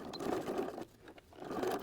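A sewing machine stitches a fabric snack bag with a slightly longer stitch length, making a short, quiet whirring run that dips briefly in the middle and then picks up again.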